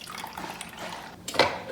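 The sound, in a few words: water poured into coffee machine reservoir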